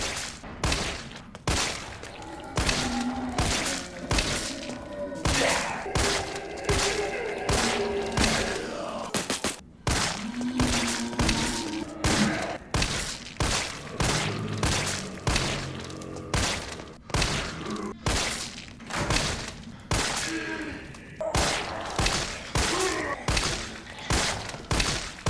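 Rapid bursts of G18 pistol fire aimed at a zombie in Resident Evil 3 Remake, sharp repeated shots in quick volleys with brief pauses throughout, loud and close with no talking.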